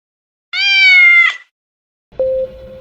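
A black cat named Maxwell gives two clear, close meows: a long, rising-and-falling call, then after a short pause a briefer, lower meow, with quiet surroundings between them.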